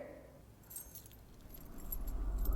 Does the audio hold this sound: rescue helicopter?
no